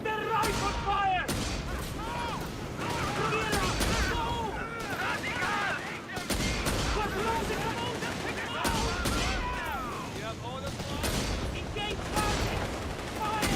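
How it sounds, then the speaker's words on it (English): Rifle fire rattles through a battle in a military video game. Shots crack in repeated bursts under almost constant shouting from voices, with heavier booms mixed in and the gunfire staying loud and close. "Under rifle fire!"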